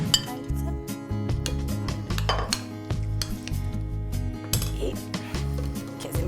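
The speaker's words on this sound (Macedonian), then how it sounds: "да го промешам за да направам убави ќофтиња" A spoon clinks and scrapes steadily against a bowl while fish and vegetable kofta mixture with egg is stirred, a busy rhythmic stream of close metallic knocks.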